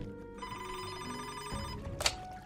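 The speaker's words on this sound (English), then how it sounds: "Just then, Montano's phone rang." A phone rings in short, soft, tonal bursts under layered background music, with a brief sharp click near the end.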